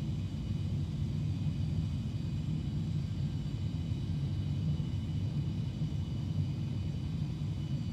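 Continuous broadband roar and rumble of an aircraft on approach to runway 30 in the flight simulator X-Plane 11, steady and unbroken throughout with no voices.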